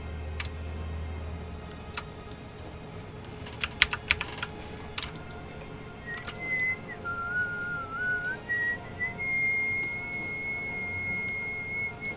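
Keystrokes on a computer keyboard entering Photoshop shortcuts, a few scattered clicks and then a quick cluster of taps, fairly faint against a quiet background with a thin steady tone rising in the second half.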